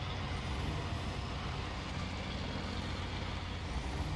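A heavy truck engine in the off-road driving game SnowRunner drones loud and steady, a continuous low rumble with no breaks for the whole stretch.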